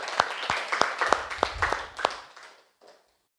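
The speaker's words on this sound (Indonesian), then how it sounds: "Ibu kasih aplaus luar biasa untuk ketiga Ananda yang tadi sudah memberikan kesimpulan" Classroom applause in an Indonesian school lesson, a short burst of scattered hand claps from a small group of students close by, fading out after about two and a half seconds.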